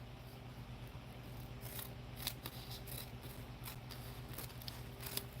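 Scissors snip through a piece of paper being trimmed for an altered book, a quiet run of soft, close cuts over a low steady hum.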